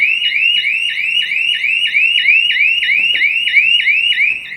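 A GSM shutter siren alarm wails right after its plunger is released, a loud repeating electronic whoop cycling rapidly and evenly with no pauses, close and alone.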